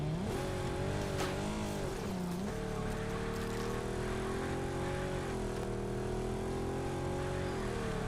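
A car engine revving hard while drifting in the game Underground Garage, a loud, continuous buzzing drone that dips and swoops in pitch as the throttle shifts and the tires slide, with no talking.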